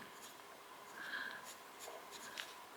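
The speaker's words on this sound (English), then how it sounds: "if I write with it this way" An Esterbrook Botanical Garden Estie fountain pen writes with its nib turned upside down, giving a faint, soft scratching of the nib across paper in a few short strokes, close and quiet with no talking.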